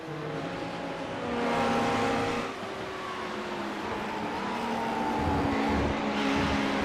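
Race car engine revving hard in sustained harmonic bursts as the driver spins a traction-control equipped car during a Geodesic Omologato Championship race, loud and close with a brief surge and tire noise, no talk.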